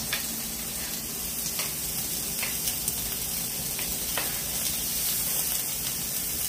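Carrots, small baby carrots cut into quarters, hit hot oil in a stir-fry pan and set off a steady, busy sizzle and crackle that holds for several seconds, close and even, with faint stirring taps and no talk.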